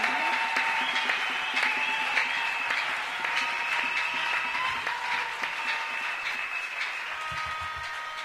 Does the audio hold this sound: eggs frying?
no